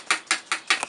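An engraver's needle taps out small dots in four or five evenly spaced, sharp, close taps, alone with no voices.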